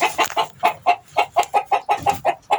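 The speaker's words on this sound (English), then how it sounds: "I've got pigeons with the eggs underneath them" Pigeons sit on their eggs in a coop, giving a run of about a dozen close, regular clucking coos in steady rhythm with no talking.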